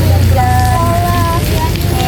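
Steady rain falls on a surface throughout, a dense continuous patter with a low hum and faint tonal lines beneath, no voices over it.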